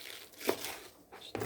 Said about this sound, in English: Just gonna give this a rough chop.